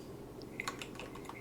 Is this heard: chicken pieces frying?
no